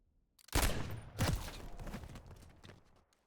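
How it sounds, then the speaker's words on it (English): Gunfire from a Tyr sniper rifle in a video game: a loud nearby shot followed by a second heavy blast, both rolling off in a long reverberant rumble. "I shot and it was low."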